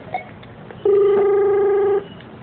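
A telephone rings once with a loud electronic tone held for about a second, sharp and close against a quiet background.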